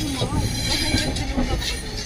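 A Duronto Express train runs along an Indian rail line with a loud, continuous rumble, rattling carriages and squealing wheels close by, and faint voices in the background.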